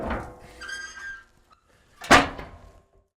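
A smoker door swings shut with a single sharp, loud bang after a stretch of quiet kitchen noise, cooking smoked barbecue meatloaf.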